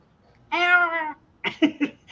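A person imitates a cat with one drawn-out, close meow, then a short run of quicker yowling mews, alone and clear against a quiet background.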